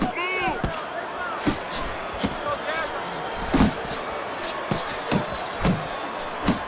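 Punches land in the boxing video game Fight Night Champion: sharp, thudding impacts about every half second to second, some clustered as combinations, over crowd murmur and talk.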